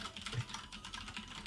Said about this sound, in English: I hear you typing.